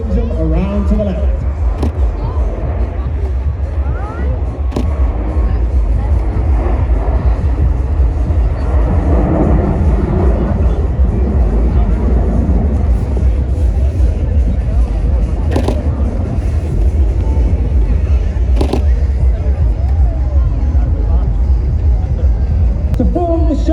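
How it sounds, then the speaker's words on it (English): Red Arrows jet aircraft roar through a display at the 2025 Ayr Show, a loud continuous rumble sweeping past while an announcer's amplified commentary runs over the top. "the aircraft starts to increase their speed back down to 200, 300, back to 400 miles per hour"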